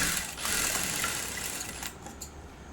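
A sewing machine runs a neat top-stitch along a blouse, whirring steadily and close before easing off into lighter mechanical clicks.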